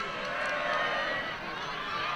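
Crowd at a rugby match, a broad murmuring roar that swells slightly and stays steady throughout, heard from a distance under a commentator's voice.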